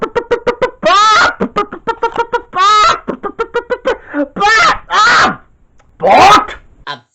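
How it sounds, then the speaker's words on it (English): Chicken clucks and squawks come in quick repeated bursts, loud and close, mixed with voices. "Chicken."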